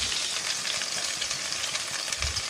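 Ground spice paste sizzles in a wok of oil left over from frying shrimp, a dense, steady crackling hiss that runs loud and unbroken throughout.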